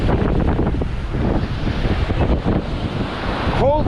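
Sea waves rolling and washing ashore under strong gusts of wind buffeting the microphone, a continuous loud roar with surging swells.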